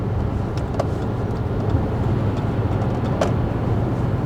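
Steady road rumble from inside a car cruising on Interstate 95 in Rhode Island, a constant loud drone of tires and engine with a couple of faint clicks, no one speaking.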